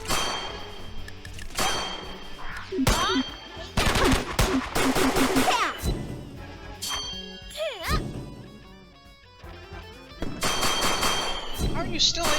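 Rapid game gunfire in Ciel Fledge, metallic clangs and bursts of shots in quick clusters, loud and close, with brief lulls between volleys over game music.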